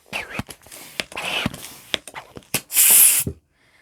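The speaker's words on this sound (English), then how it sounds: "I'm going to take this 160 balloon, and I am again going to blow it up all the way" A 160 twisting balloon is blown up all the way, one long steady breathy rush of air near the end, preceded by softer puffs and breathy sounds.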